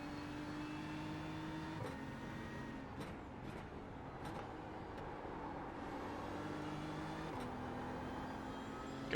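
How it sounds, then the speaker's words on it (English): A BMW M4 GT3 race car accelerates down the straight at Watkins Glen in iRacing, its engine droning steadily, with pitch dropping at gear changes and a few sharp clicks over the top. "so I can accelerate it down the straight"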